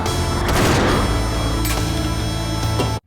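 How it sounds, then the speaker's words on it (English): A movie shootout between robbers, FBI agents and a security guard: a dense, loud fusillade of overlapping gunshots and booms mixed with music, cutting off abruptly at the end. "The robbers and the FBI agents and this random security guard just like spinning around, firing their guns while cool music plays"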